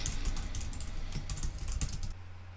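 Rapid, uneven key clicks from a computer keyboard, close and fairly crisp, stopping abruptly just before the end and leaving a low steady hum.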